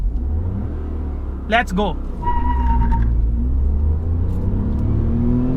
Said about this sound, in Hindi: now raving the engine